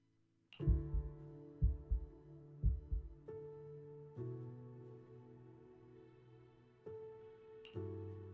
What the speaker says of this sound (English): Then what about my racing heartbeat?